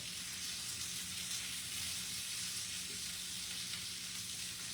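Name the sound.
smoked sausage frying and sizzling in a pan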